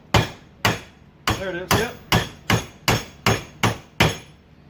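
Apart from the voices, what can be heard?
hammer tapping a part on a Yamaha Grizzly 700 ATV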